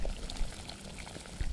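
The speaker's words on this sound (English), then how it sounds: "The water is boiling." Water boils in a pot on the stove for pasta, a close, continuous bubbling and gurgling with soft pops and no talking.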